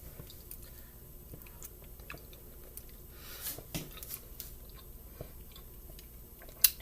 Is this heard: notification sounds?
no